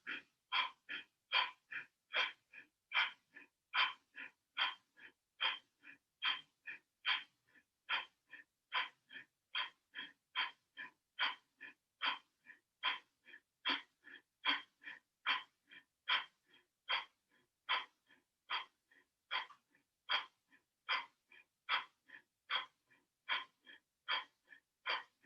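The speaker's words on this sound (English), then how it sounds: "And then exhale forcefully to begin" Forceful Bhastrika breathing, a yoga breath practice: a long steady run of sharp, rhythmic exhalations roughly one per second, close and fairly loud, with audible inhales between and no talking.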